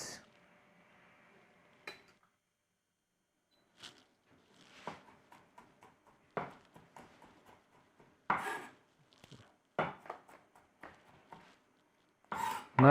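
Garlic being roughly chopped with a knife on a board in a kitchen, with a string of sharp irregular knocks and taps that start sparse and grow more frequent, some louder than others, with quiet gaps between.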